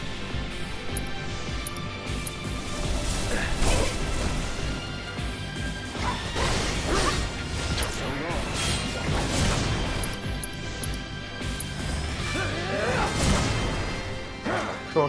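Repeated heavy smashing blows against the Mind Flayer in a Baldur's Gate-style video game fight, dense crashing impacts and whooshes over a continuous loud game soundtrack throughout.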